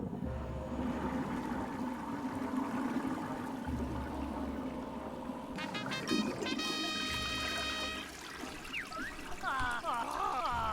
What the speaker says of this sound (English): Yes, it's flushing.